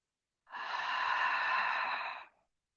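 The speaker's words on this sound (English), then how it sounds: "let's start to slow the breath down, breathing in through the nose and out through the mouth a few times" One long, slow breath during a yin yoga session, drawn in through the nose and let out through the mouth, lasting about two seconds. It sounds soft, airy and close, with no talk over it.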